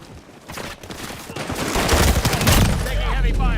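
Heavy sustained gunfire in Modern Warfare multiplayer, loud dense bursts of rifle and machine-gun shots building into a continuous barrage, with no voices.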